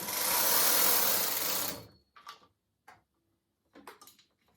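The carriage of a knitting machine, run across without yarn, slides in one continuous rasping whir lasting under two seconds, followed by a few light clicks and taps in near silence.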